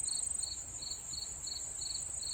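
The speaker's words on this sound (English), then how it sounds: "except this cricket over here." A single cricket chirps at night in regular, evenly spaced pulses over a steady high insect drone, close and alone with no talk.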